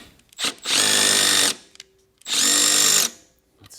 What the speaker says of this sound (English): this one has a little clicky sound to it